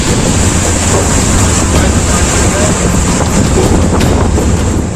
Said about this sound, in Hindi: समुद्र की तेज लहरों की टक्कर से जब बोट में पानी तेजी से भरने लगा